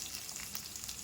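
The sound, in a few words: tempering seeds, green chillies, curry leaves sizzling in hot oil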